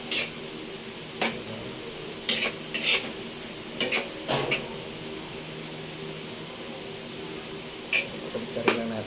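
Beef being turned in a cooking pan, with scattered utensil scrapes and clinks against the metal over a soft steady sizzle.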